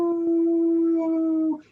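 A human voice imitates a wolf howl with one sustained, steady, musical tone held for about a second and a half before it trails off, close and clear.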